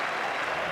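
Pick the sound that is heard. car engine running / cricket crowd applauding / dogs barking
cricket crowd applauding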